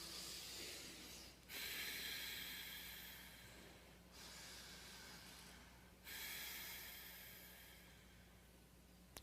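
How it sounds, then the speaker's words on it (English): Several slow, deep breaths drawn in and out close to the ear, each a soft hiss that swells and fades, with short pauses between and no talking. "Just do one breath and see it is noticeable."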